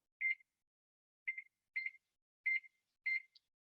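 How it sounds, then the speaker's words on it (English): A kitchen timer set while pan-cooking beeps five times in short, clipped electronic tones. It is fairly faint, spaced unevenly over a few seconds, and silent between beeps. "I'm going to set my timer here"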